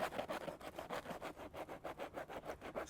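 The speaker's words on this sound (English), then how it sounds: "I got my sandpaper right here" Sandpaper rubs back and forth across the suede of MSCHF Gobstomper sneakers in a fast, steady rhythm of scratchy strokes, close and fairly quiet, with no voices.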